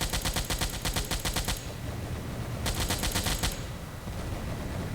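Bursts of aircraft machine-gun fire from a Wildcat fighter in Silent Hunter IV, two loud rapid-fire volleys with a pause between, over steady engine and background noise.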